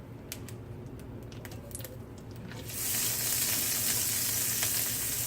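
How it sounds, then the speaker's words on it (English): Butter melting in a hot pan, ready for blackened shrimp, gives a low crackle with scattered pops that swells after a few seconds into a steady, loud, broad sizzle. No one speaks. "now that our butter is melting"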